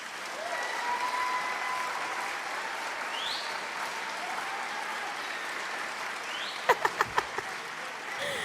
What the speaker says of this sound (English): I didn't get no applause